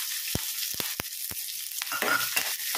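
Onions, chillies and curry leaves fry in a pan for a yogurt curry, giving steady hissing sizzle with a few sharp clicks and stirring scrapes; nobody speaks.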